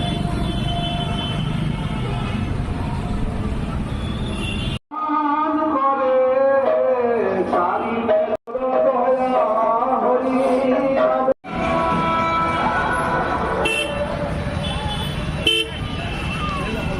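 Busy roadside traffic in Dinajpur, with a steady rumble of passing vehicles, horn toots and market bustle, interrupted by stretches of music-like tones, while a voice talks over parts of it.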